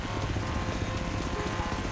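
A helicopter carrying a Jeep during an event in Forza Horizon 3: a continuous rotor drone with dense low rhythmic chopping, loud and steady, with no talk over it.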